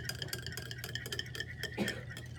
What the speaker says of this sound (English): Make sure it's thoroughly whisked so that the mucus isn't all sticking together.